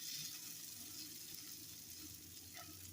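Instant rice browning in butter in a pan, giving a steady, soft sizzle that runs throughout at low to moderate level with no talking.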